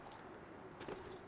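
Pigeons or doves cooing in the Assassin's Creed 2 game world, soft low coos rising briefly over a steady ambient hum, short and fairly faint with no talk.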